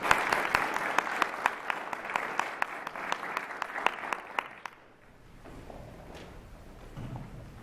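Audience applause at a high school Young Entrepreneurs Academy presentation, a steady crowd clapping with sharp individual claps, fading out after a few seconds into quiet room tone.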